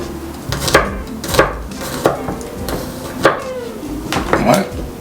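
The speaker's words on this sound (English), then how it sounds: "we're going to take some garlic, chop it up finely just like this" Knife chopping garlic finely on a cutting board, a run of close, sharp, irregular chops with voices talking underneath.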